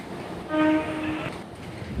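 A train at Old Delhi railway station, its horn sounding a brief tonal blast over the steady rumble of the platform and rolling railcars, moderately close with no talk.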